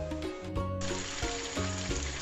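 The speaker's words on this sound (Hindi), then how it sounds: "जितनी देर में चिकन फ्राई हो रहा है व्यूवर्स" Chicken pieces sizzle in a pan for chicken tikka karahi, a bright steady frying hiss broken by a few rhythmic clanks of a utensil.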